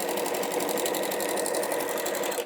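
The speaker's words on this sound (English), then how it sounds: "just let the machine do the job itself, and that will sew a very nice little cross stitch" A sewing machine runs steadily and continuously as it stitches a cross-stitch pattern, with a fast, even mechanical whirring and rattling close by, stopping abruptly at the end.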